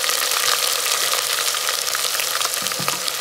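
Ginger garlic paste hitting hot oil in a pan for mutton curry gives a loud, close, steady sizzle with crackling hiss that lasts the whole moment, and no one speaks.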